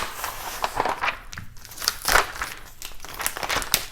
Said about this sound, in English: So we're going to start off by going ahead and weeding the design.